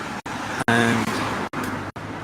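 Road traffic in Devizes, Wiltshire, with cars passing along a residential street, a continuous near roar of tyres and engines, the sound broken by a few brief dropouts.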